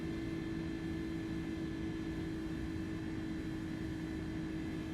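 Steady drone of jet airliner engines in a flight simulator game, a continuous low hum with tonal whine, even in level and faint, with no voices.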